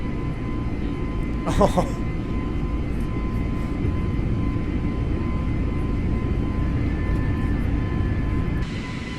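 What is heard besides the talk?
airliner engines during a go-around in a flight simulator video game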